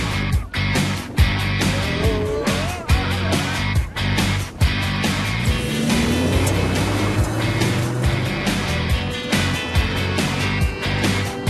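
Rally car tearing across the Tunisian desert, its engine revving and rising in pitch with gear changes, loud and close, rattling and bumping over rough terrain without any talk.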